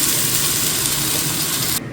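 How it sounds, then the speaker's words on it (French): An air fryer runs in a home kitchen with a loud, steady hiss and fan whoosh that holds evenly, then cuts off abruptly just before the end. "Le bruit que vous entendez là, c'est la air fryer."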